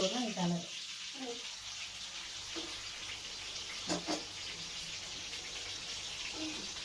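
Tap water runs steadily into a sink while cooking utensils are washed after a Sunday non-veg lunch, a constant close hiss of flowing water with a few faint clinks and someone speaking over it now and then.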